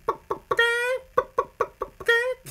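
A man imitates a chicken with his voice, giving a run of short clucks broken by two longer drawn-out squawks, loud and close with no other sound.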